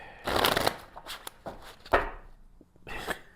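Gold tarot cards are shuffled by hand in a string of quick riffling, slapping bursts, close and crisp, that trail off into scattered taps before one final flurry.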